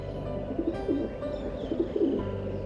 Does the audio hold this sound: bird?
yes